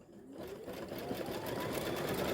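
An embroidery machine stitches a placement line on fabric, a fast, even mechanical whirring and ticking that starts up and runs steadily at close range with no speech.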